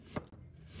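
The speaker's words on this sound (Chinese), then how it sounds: "再准备一块去皮的生姜，把它切成片" A kitchen knife slices a peeled piece of ginger on a cutting board, giving one crisp close chop and then the start of a second. No one speaks.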